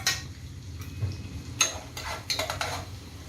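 Ginger and garlic cooking in a pan for dal makhani, with a soft steady sizzle and a few quick metallic stirring scrapes and clinks close by.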